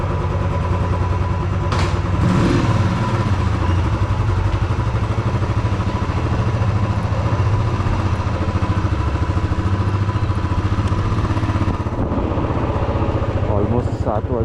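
A motorcycle engine runs loud and close at the start of a solo ride from Pune to Vengurla, a steady rumbling clatter lasting throughout, with a voice talking over it at times.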